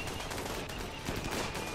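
Gunfire in the RimWorld video game during a modded extreme-difficulty battle, rapid sharp shots scattered through a busy, fairly quiet mix, with no clear speech.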